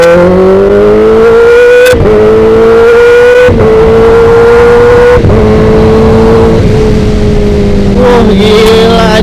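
A 2021 Kawasaki ZX10R engine runs loud and close, its steady high-pitched drone rising and dropping through several sharp gear-change breaks as it accelerates hard.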